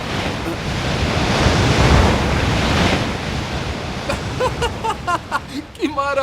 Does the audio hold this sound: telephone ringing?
no